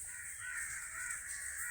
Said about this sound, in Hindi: ये काग है, वो हवा को झेल नहीं पाते, इसीलिए वह चित्कार करते हैं